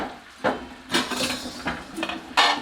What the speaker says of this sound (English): at this point, I'm probably going to cover both of them with lids